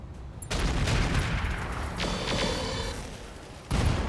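Mech weapons fire in RogueTech, a BattleTech mod: loud, dense bursts of gunfire and heavy impacts, with a booming volley at the start, a sustained rattling barrage, and a second sharp blast near the end.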